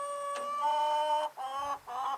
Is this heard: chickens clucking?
yes